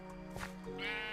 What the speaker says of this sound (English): There's some sheep.